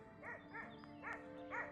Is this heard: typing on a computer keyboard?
no